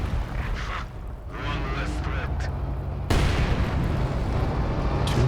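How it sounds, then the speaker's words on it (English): Mines detonate in a Company of Heroes 2 battle, with muffled booms under ongoing gunfire, then a sudden loud blast near the three-second mark followed by sustained rumbling combat noise. "Mines getting detonated there."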